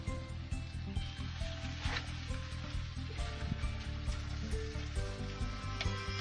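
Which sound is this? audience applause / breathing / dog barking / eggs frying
eggs frying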